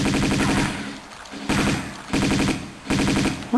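Rapid machine-gun fire from a Tomb Raider 2 game at a fish underwater, in three or four loud sustained bursts separated by brief pauses.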